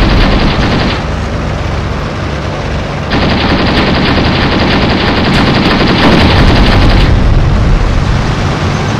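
Dense, loud battle gunfire from the Graviteam Tactics: Shield of the Prophet war game, a continuous roar of rapid shots and blasts swelling and easing across the stretch, with no voices over it.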